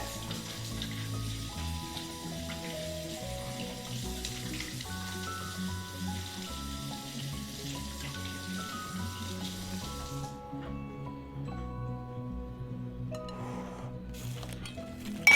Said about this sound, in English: Wash my hands, guys.